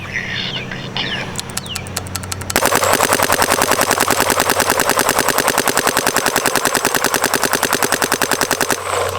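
A DLX Luxe Idol paintball marker fitted with an Adrenaline bolt fires a long, rapid, evenly spaced burst of loud, sharp pops, preceded by a few quieter mechanical clicks.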